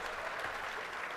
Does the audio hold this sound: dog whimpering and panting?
no